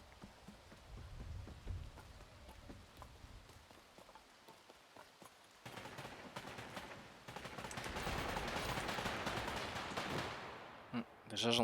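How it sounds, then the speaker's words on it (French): Gunfire rings out in the vampire battle royale game Vampire: The Masquerade – Bloodhunt, set in Prague: scattered cracks that swell into a dense, sustained crackle of rapid shots, with a loud final burst. "Déjà j'entends des tirs."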